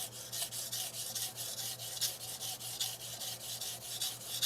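Repeated strokes of a Shirogami nakiri across a slurried Japanese natural whetstone give a steady, close, scratchy grinding rhythm, each pass a short gritty hiss.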